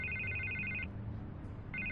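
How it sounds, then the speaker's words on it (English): A telephone rings in the Batman Telltale video game, with two bursts of electronic trilling separated by a pause over a low ambient hum. "I can't get the phone to stop ringing."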